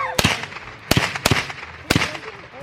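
Gunshots from an H&K MP5 .22 LR rifle during backyard shooting: four sharp, loud cracks at uneven intervals, close by, with short decays between.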